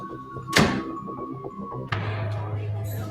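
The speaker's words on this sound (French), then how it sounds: "Je referme ta porte, hein?" An office door swings shut with a sharp, loud thud early on, followed by a brief clack and then a steady low room hum indoors.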